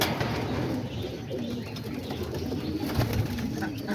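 Homing and roller pigeons, with soft low cooing repeated through a steady background of rustle and noise; a few coos stand out near the middle and end, close by but not loud.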